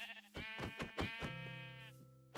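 A sheep in a video game bleats in a loud, close, wavering cry that lasts a couple of seconds, with a short rhythmic stutter at the start.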